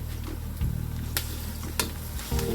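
Garlic ginger paste sizzles in hot oil with fried onions for a chicken biryani masala, a steady close crackle broken by a few sharp scrapes of stirring, with no talk.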